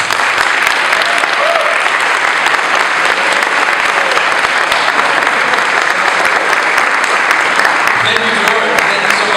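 Loud, sustained audience applause welcomes Councilmember Carlos Menchaca at an event, dense and even clapping that carries on without a break for about nine seconds.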